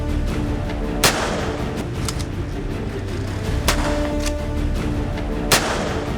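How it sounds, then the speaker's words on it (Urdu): Gunshots ring out during a robbery as several sharp, loud cracks spaced unevenly over a few seconds, with a couple of fainter distant pops in between, all over a constant rumbling background noise. "اور آخرکار گولیاں چلنے لگیں۔"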